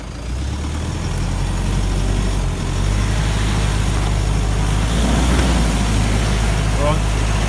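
A 4x4 engine revving and labouring as it tries to drive out of a slippery spot, a steady loud rumble with a rising surge midway and voices talking over it.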